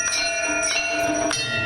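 A metal hand bell is rung steadily during a Hindu puja, its bright loud clangs repeating roughly every half second in a continuous ringing wash.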